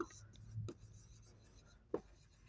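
Pen or pencil writing on paper in a classroom setting, a faint scratchy stroke sound with a couple of brief louder taps, quiet overall under low background noise.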